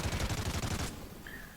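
Lynx rifle gunfire in Call of Duty: Ghosts: a rapid, loud burst of closely spaced shots lasting under a second, cutting off into a brief ringing tail with a faint high tone.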